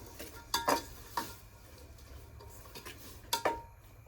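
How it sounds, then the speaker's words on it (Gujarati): Bottle gourd curry stirred in a pot, a spoon scraping and knocking against the metal in a few sharp clinks with soft sizzling underneath, close and fairly quiet, no talking. "મસ્ત મજાને હલાવી નાખીએ."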